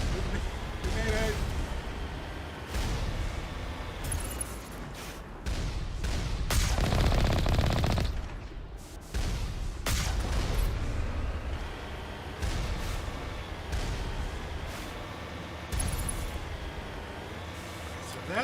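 Dense gunfire from the Mass Effect Legendary Edition game, with repeated weapon bursts and impacts crowding a busy combat mix that runs continuously for about eighteen seconds.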